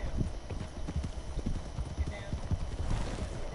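Horse hooves clip-clopping in Red Dead Redemption 2, a steady run of close, repeated thuds set against game ambience, with a voice talking over the riding.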